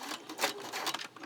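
A finicky sewing machine stitches a scrunchie watch band in a short, uneven burst of close mechanical whirring and clicking.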